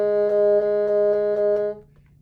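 A single sustained bassoon note, A flat played with the back thumb key and a half-hole fingering, holds steady and clear with faint key clicks before cutting off near the end.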